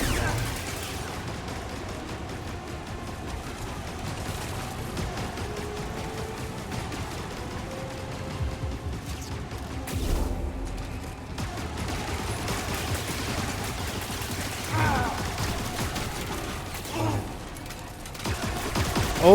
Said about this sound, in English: The turrets are definitely the real issue here.